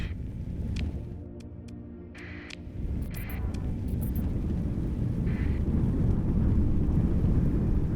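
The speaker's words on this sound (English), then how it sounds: "Oh wow, that storm's actually helping." A storm rages in the space game Starsector, a deep, rolling, thunder-like rumble that swells and holds loud, with a few sharp electronic clicks and bleeps over it early on.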